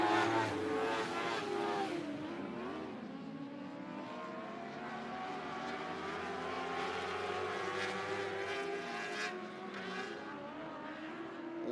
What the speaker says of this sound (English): Whole gaggle of cars racing for third behind him.